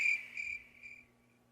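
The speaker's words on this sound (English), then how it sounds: "Crickets. Crickets. There you go." Crickets chirp as a sound effect, a few high, bright trilled pulses in quick succession that fade out, fairly faint and heard alone.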